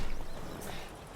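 Horse hooves clip-clopping steadily while riding in The Witcher 3: Wild Hunt, a continuous close trotting patter over a dense game soundscape, with no talk.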